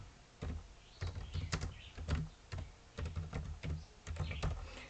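Keys clack on a computer keyboard in a quick irregular run of distinct taps, close and fairly soft, with short pauses between bursts as a title is typed.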